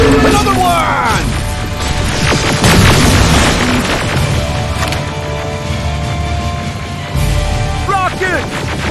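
Heavy booms and crashing debris from a rocket blast in the shooter Terminator Resistance, loud and close amid chaotic battle noise, metallic clatter and shouted voices.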